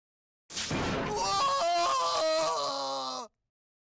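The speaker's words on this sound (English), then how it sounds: "Was that someone screaming?" A person screams in a long, loud wail that jumps abruptly in pitch several times before cutting off, a dramatic voiced cry of alarm lasting nearly three seconds.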